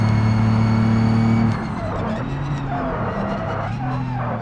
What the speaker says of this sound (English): our front tires are locking up with this touch there